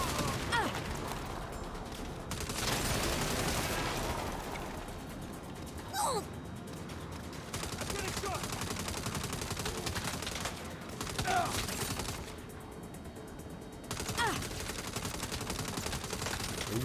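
Bursts of rapid gunfire from the video game Saints Row rattle in dense volleys with short pauses between them, mixed with game effects and grunts.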